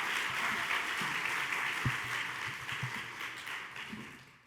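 Steady audience applause fills the room at an annual village awards and members meeting as Penny Arcade is welcomed to the stage, a dense, even clapping that slowly tapers toward the end.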